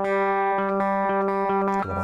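A guitar's open third string rings a sustained G note, clear and steady, close and loud, with a few soft picked repeats before the tone shifts near the end; no talk.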